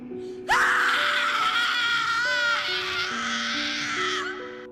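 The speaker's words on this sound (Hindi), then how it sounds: "उसके बाद उस जंगल से रोमा की एक दर्दनाक चीख निकल गई" A woman lets out a long, piercing, anguished scream in a forest in a horror tale, loud and sustained for several seconds with a wavering pitch, set against low eerie sustained background tones.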